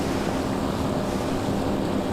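A ship in the game Seafarer: The Ship surges through open sea at around 30 knots, producing a continuous broadband wash of water and wind, steady and fairly loud throughout with no voices.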